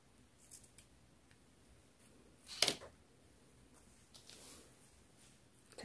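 Scissors snip yarn once, a short crisp cut, while a crochet vest is being made; quiet room with a few faint handling ticks around it.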